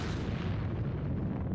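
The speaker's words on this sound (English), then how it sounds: "Hopefully they make it out of that explosion too" A loud, dense explosion rumbles continuously in a Final Fantasy XIV cutscene at the Ul'dah palace, a heavy booming roar that fills the whole moment without pause, with no talking.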